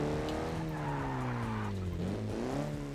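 A Datsun car in BeamNG with its engine droning in rising and falling harmonics while the tires squeal in a sustained skid, close and loud throughout with no talk.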